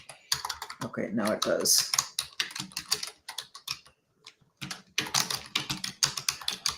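Clicky keystrokes on a computer keyboard come in quick uneven bursts, mixed with a person talking over and between them, close and moderately loud.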